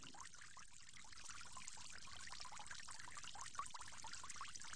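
Water pours steadily over the forearms, right then left, during ablution before prayer; a continuous close splashing trickle with no talk.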